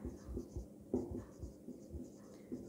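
A teacher writes notes on a board with chalk or marker, soft tapping and scraping strokes in an uneven rhythm, faint and close, with no voice over them.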